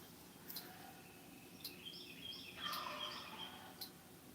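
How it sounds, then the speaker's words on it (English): Turkey gobbling outdoors at a moderate distance, several rattling gobble calls spaced across a few seconds over a steady hiss of ambient noise, the loudest burst near the end. "Man, listen to turkey talk."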